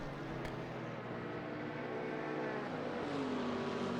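A Chevrolet Camaro GT4 with a big V8 in a racing video game at the Hungaroring, a steady droning engine note that rises slightly in pitch toward the end, heard alone at moderate loudness.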